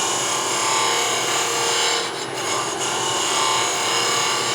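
Shear scraping with a hand tool across a wooden scoop, taking down bumps: a steady, continuous rasping scrape that runs almost unbroken, close and fairly loud, with a brief lift partway through.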